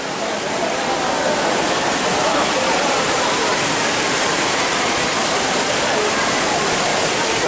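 Water pours down steadily at a water drop tower attraction in Kenting, a loud, continuous, dense roar of falling water with no breaks.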